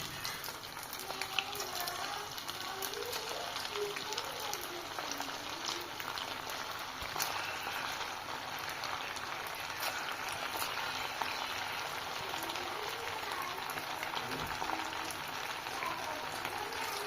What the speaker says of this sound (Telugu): ఒక సెట్ ఆఫ్ పీసెస్ వేసేసుకొని మంచిగా దాన్ని మంచిగా ఫ్రై అవ్వనివ్వండి, క్రిస్పీగా వచ్చేటట్టు